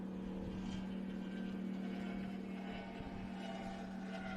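Offshore superboat racing past during a championship round on Lake Macquarie, a steady, droning engine hum with a low buzz that holds evenly throughout and sits at a moderate distance.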